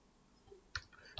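Two sharp plastic key clicks from a computer keyboard pressed for a copy-and-paste shortcut, close and quiet, spaced under half a second apart, with no talking.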